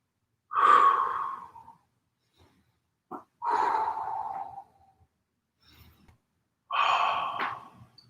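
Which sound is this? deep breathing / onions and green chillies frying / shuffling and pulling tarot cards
deep breathing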